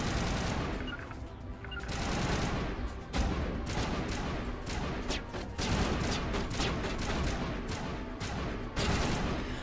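Sustained exchange of gunfire in the video game Mass Effect Legendary Edition, with rapid bursts and shots going off continuously for the whole stretch, loud and dense with no pauses.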